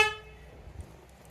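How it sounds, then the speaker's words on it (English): A Jeep Patriot's car horn gives a single short honk that cuts off quickly and rings down into quiet, with faint background noise afterward. "So honking the horn won't bug too many."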